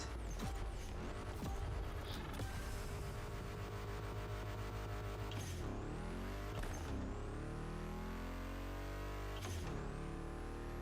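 A car drifts with continuous engine drone and tire noise in the racing game The Crew Motorfest, with pitch swoops and sharp shifts as it slides through a corner.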